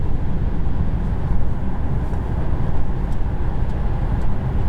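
Steady road and wind noise inside a 2023 Audi E-Tron GT electric car cruising on the highway, a continuous broadband rumble with no engine note, even in level and uninterrupted.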